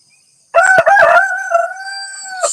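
A pet rooster called Alamo lets out one loud, close cock-a-doodle-doo crow that rises sharply, holds a long drawn-out tone and trails off, with no talking over it.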